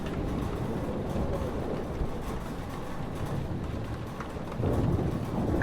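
A heavy thunderstorm in the game Life is Strange Remastered: a steady, dense roar of rain and rumbling thunder runs throughout and swells louder near the end, with no talk.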